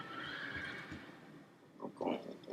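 A horse in World of Warcraft neighs with a whinny that rises and falls, then snorts and stamps, all faint and fairly close.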